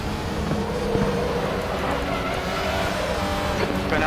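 An Audi RS 3 LMS race car in the RaceRoom sim racing game on the Blister Berg track, engine droning loud and steady with dense mechanical noise and faint tire squeal throughout.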